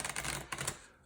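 Playing cards riffled and bridged as a deck is shuffled for a tabletop card game, a quick close burst of dense fluttering clicks that swells twice and then trails off.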